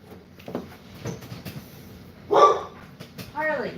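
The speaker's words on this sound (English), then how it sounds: "stop making her bark" A dog named Lucy gives a couple of sharp, loud barks, with a longer yelping burst near the end and people talking in the background.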